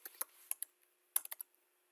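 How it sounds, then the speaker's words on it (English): Quick bursts of computer keyboard typing, close and fairly quiet: a cluster of sharp key clicks, a short pause, then another rapid run of keystrokes with no voices. "let's type CQURE a couple of times here"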